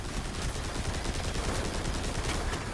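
Sniper gunfire in the shooter Destiny 2: a dense, rapid volley of sharp shots crackling over a loud, busy battle din, sustained for a few seconds with no talking.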